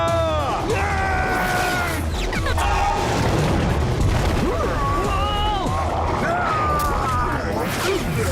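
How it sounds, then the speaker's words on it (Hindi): A tower blown up by an explosion in the Slugterra cartoon, heavy crashes and booms running throughout with whooshing effects, loud and busy under character voices. "टॉवर को उड़ा दो।"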